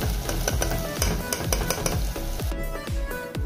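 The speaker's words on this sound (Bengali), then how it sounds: "রসুন দিলাম, এখন পেঁয়াজ দিলেইমু, হলুদ 1 চামচ দিলাম।" Garlic, onion and turmeric frying in a pan as the base for a Sylheti mango tenga with pangas fish head: a steady, close, loud sizzle with repeated metallic scrapes and clinks from stirring.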